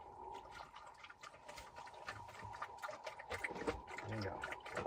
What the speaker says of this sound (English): Let me get the water. Yeah, let me put the water in.